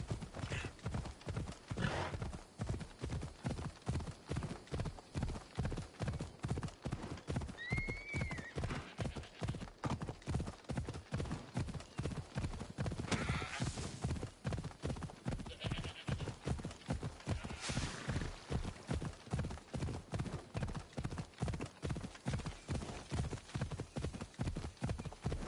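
A horse from the game Assassin's Creed Odyssey gallops with a fast, steady rhythm of clip-clopping hooves, close and loud throughout, with a brief neigh partway and faint speech in places.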